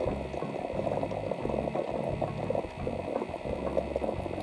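An overheating, smoking Keurig coffee maker boils and gurgles up close, with bubbling liquid over a repeating low mechanical pumping pulse that continues steadily throughout, no speech.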